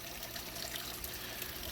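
Water runs into an aquarium tank waterfall with a constant close trickle and splash, an even bright wash of sound that holds steady without pauses.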